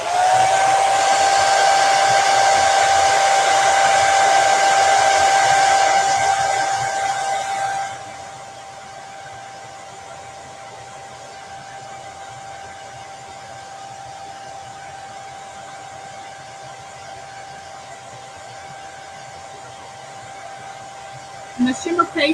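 A hair dryer blows steadily and loudly while drying shimmer paste in a craft project, then drops to a lower, quieter setting that whirs on for a long stretch, with a few clicks at the end.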